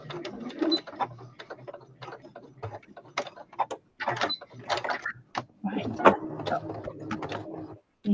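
A home sewing machine runs in short bursts while back-stitching a patchwork pillow, its rapid mechanical whir under ongoing conversational speech that dominates the scene.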